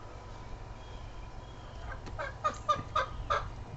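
Chickens cluck in a short burst of four or five choppy calls near the end, following a quiet stretch with only a low background hum.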